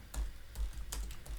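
Someone types Python code on a computer keyboard in several quick, light keystrokes, the clicks close and fairly soft in a quiet room.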